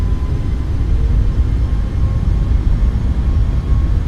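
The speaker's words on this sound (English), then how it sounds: "Takeoff power is set." Twin jet engines of an iFly 737 MAX at takeoff power roar in a dense, steady low rumble, loud and unbroken, with no talking.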